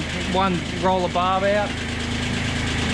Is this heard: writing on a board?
no